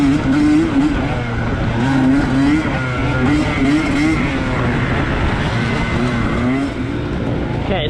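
Dirt bikes race flat out through a dusty harescramble moto at Bradley Farm, engines droning loud and steady with rising and falling revs across the whole stretch, close to the rider.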